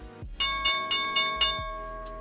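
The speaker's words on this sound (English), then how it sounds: "And here's the closing bell." A stock market closing bell rings in five quick, bright metallic strikes with ringing overtones, then a short low thump near the end, loud and alone.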